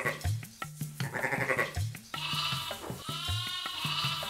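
Ewes bleating at an experimental farm, several overlapping calls in quick succession, loud and close, with no voices.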